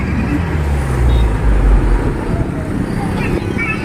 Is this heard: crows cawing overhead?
no